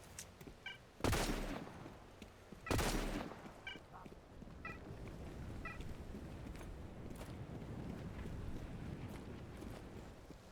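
Gunfire in the video game STALCRAFT: X comes as two sharp, loud shots about a second and a half apart. Softer distant pops and faint ambient hiss follow.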